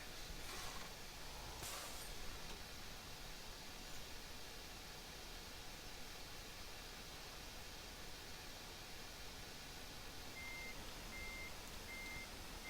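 A big coal truck in a video game backing up, emitting three evenly spaced electronic reversing beeps near the end over a steady hiss of noise.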